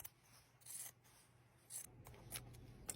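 Scissors snipping through fabric to trim a seam allowance down, a few short, soft cuts spaced unevenly, close and faint, with no talking.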